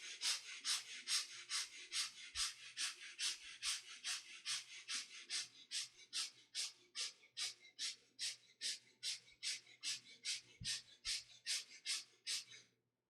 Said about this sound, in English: Quick, short, and gentle breathing through both the nostrils into the rib cage.